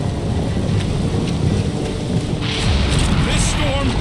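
A video game storm brings steady rain with rolling thunder that swells louder partway through, all close and continuous.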